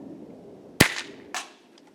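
A custom airsoft blunderbuss, a bolt-action gun, fires one sharp crack followed half a second later by a softer second snap or impact, both standing out over low background noise.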